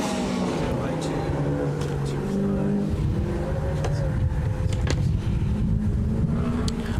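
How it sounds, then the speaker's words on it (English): A turbocharged autocross car runs a lap at Anaheim Stadium, its engine droning steadily and loudly throughout with rising and falling revs through a corner, while a voice talks over it. "Letting that turbo flow into the 180-degree corner, into the dip, and that's going to wrap that lap up."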